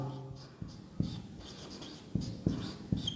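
Chalk or marker writing on a classroom board, a run of soft, close taps and scratchy strokes in an uneven rhythm, fairly faint, with no voice over it.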